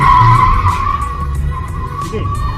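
Subaru BRZ drifting on a drift track, tyres squealing in a long sustained skid over steady engine roar, loud and close, with voices speaking over it.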